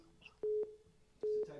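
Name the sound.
telephone ringing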